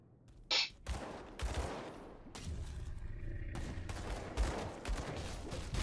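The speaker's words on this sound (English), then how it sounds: "You gentlemen should not be shooting at me" Enemies fire guns at the player in the Grim Dawn action game, loud cracks and bursts scattered over several seconds amid a dense, rumbling battle din, with no talk over it.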